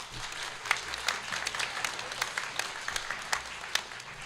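Audience applause at a municipal all-candidates meeting in 2022: steady, moderate clapping from a small crowd in a hall, with some sharper individual claps standing out and no voices over it.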